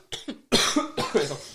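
Several harsh coughs from a person sick with Covid at a podcast microphone, a short pair followed by three louder hacking bursts in quick succession, close and dry.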